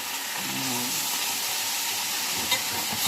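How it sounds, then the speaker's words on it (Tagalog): Squid adobo cooks in a home kitchen pan, a steady sizzle and hiss of frying running throughout with a brief scrape of stirring near the start and a small clink later. "nagluluto daw siya ng adobong pusit"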